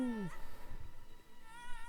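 A pet cat gives a single short, close meow at the start, falling in pitch, then fades under faint computer game sounds and background music beside a large desk.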